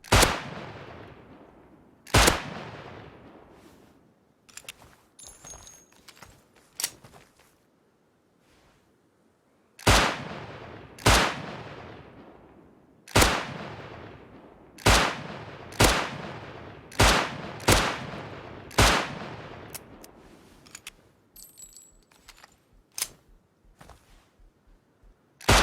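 Gunfire aimed at bears in the survival video game Rust, loud sharp shots fired singly and in quick bursts across the stretch, each ringing out briefly, with short pauses between volleys.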